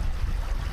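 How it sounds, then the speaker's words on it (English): A natural river flows steadily outdoors, its broad, continuous rushing close and even with no voices over it. "seeing water flow like this, just water flow down a natural, you know, this isn't man-made"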